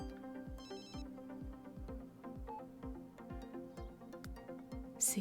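A telephone ringing in the video game The Sims 3, a regular electronic ring pattern repeating steadily and clearly for several seconds with no talking.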